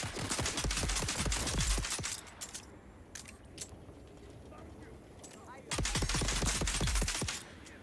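Bursts of rapid automatic gunfire aimed at the player in the survival game Dune Awakening, two loud dense volleys with scattered single shots and a quieter gap between them.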